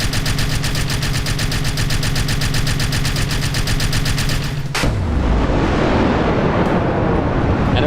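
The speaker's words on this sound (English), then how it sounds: "Just ready for the machine gun?" Machine gun fire in the Kerbal Space Program video game, a rapid continuous loud stream of shots that cuts off abruptly and gives way to a dense roaring rumble.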